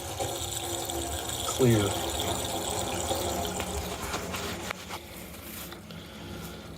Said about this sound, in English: I'm going to drain this paint thinner out first